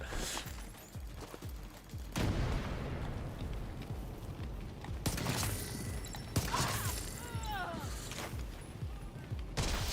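Rapid gunfire in The Division 2, with a fast stream of crackling shots at the start, then sustained volleys and heavy blasts that come in waves over a busy, rumbling battle background.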